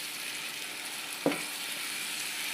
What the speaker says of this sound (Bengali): আমি আদা রসুন মিক্স পেস্টটা 3 চামচ দিলাম, দিয়ে এবারে একটু ভালো করে কষিয়ে নিতে হবে